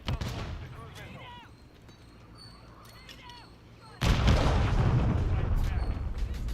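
Gunfire from the Pulemyot 762 machine gun in Call of Duty Modern Warfare III, a loud dense burst of shots erupting after a quieter stretch of battle noise, with a voice talking over the combat.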